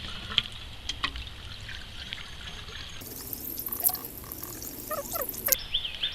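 Water poured from jugs into the pipe of a water pump to prime it, trickling and gurgling close by in uneven bursts with small splashes and handling clatter, with no talking.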